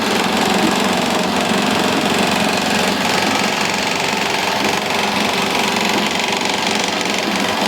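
An industrial sewing machine stitches a mattress at a Delhi workshop, running as a loud, steady mechanical drone that holds unbroken from start to finish with no voices over it.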